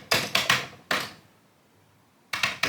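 Commodore 64 keyboard being typed on in short bursts: a quick run of four clacky keystrokes, a single press, a pause, then three more close, sharp taps.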